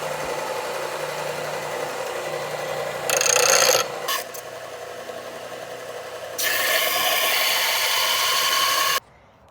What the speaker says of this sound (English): now we're gonna grind off all of the little file things